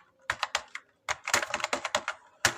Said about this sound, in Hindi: यहाँ पर मैं टाइप कर देता हूँ